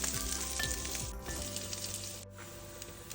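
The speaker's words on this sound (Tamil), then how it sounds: "மிதமான சூட்டில் நம்ம அழகாக இதை பொரிச்சு எடுக்கலாம்." Food fries gently in oil over medium heat, a steady close sizzle with soft crackles that dips briefly twice, and no one speaks.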